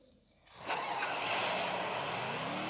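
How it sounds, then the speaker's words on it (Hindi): A vehicle in the Free Fire video game starts and drives off, its engine roaring up after a quiet half-second and holding a loud, steady drone to the end. "तो अब हम चलते हैं गाड़ी लेके दूसरे ड्रॉप पे।"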